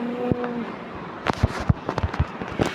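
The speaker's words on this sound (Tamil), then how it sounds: "அவன் ஏகே வச்சு அடிக்கிறான், நான் யூஎம்பி வச்சு அடிக்கிறேன்" AK and UMP gunfire in the Dude Theft Wars video game comes as a quick run of sharp, irregular pops after a brief tonal beep, fairly close and moderately loud.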